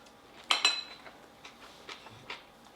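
Utensils clink against a bowl as a salad with onion and dressing is tossed, two sharp clatters up front followed by softer intermittent scrapes and taps, fairly quiet and free of talk.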